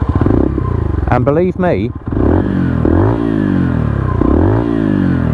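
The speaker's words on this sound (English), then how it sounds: "Let's hook the side stand up, start the bike up" An AJS Desert Scrambler 71 motorcycle engine loud and close, starting up and then revving in repeated rising sweeps with a throaty, thumping exhaust note, while someone speaks briefly over it.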